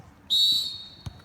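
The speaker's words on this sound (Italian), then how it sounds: "Si attende solo il fischio da parte dell'arbitro" A referee's sharp whistle blast restarts a Serie C2 football match, a single loud shrill tone held about half a second before fading, followed by a brief thump.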